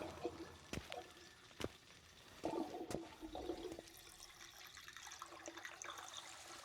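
A pool draining in The Witcher game gives faint gurgling, trickling water with a few sharp clicks and knocks, quiet and uneven, rising into a slightly busier splash of flowing water toward the end.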